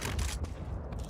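Gunfire in a tactical shooter video game, a burst of sharp shots up front that fades, then another brief crack near the end, with no talk over it.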